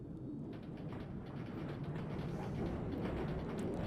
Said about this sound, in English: the tram itself is actually a German tram, and from Bombardier